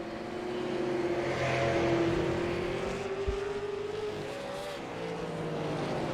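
Super late model race cars lap a short oval at Southern National Motorsports Park, engines droning at a steady distance. Their pitch rises and falls as the pack sweeps past, a continuous roar heard from afar.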